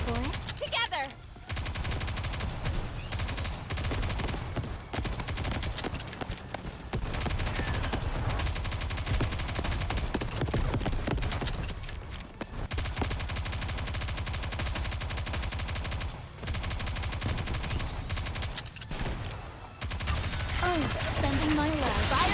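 Rapid automatic gunfire from the anime shooter game Nikke: Goddess of Victory rattles almost continuously, dense bursts with brief pauses, loud and close, with character voice lines chiming in over the shooting.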